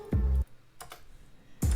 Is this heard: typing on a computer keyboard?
yes